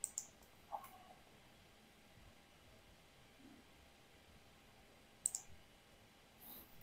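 A computer mouse gives a few faint, sharp clicks: a quick pair, a single click, then another pair later, set against a quiet background hiss.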